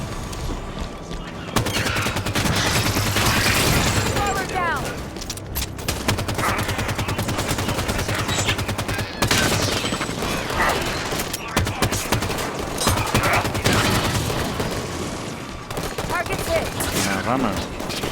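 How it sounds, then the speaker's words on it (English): Assault rifle in the video game Halo 5: Guardians firing rapid bursts and sustained automatic fire, loud and close, with brief pauses and mechanical clicks between bursts. "the assault rifle in this is pretty fun"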